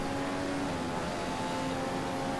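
Race car engine from F1 2015 held at steady high revs on a flying lap around the Chinese GP circuit, a continuous loud droning tone with no talk over it.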